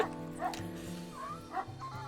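Wild dogs in the WolfQuest game snarling, yipping and whimpering during a fight, short bursts of barks and growls over a steady low in-game drone, fairly quiet, with a player voice partly audible.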